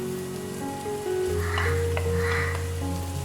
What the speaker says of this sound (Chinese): 全程用中小火来炒，将葱蒜末炒香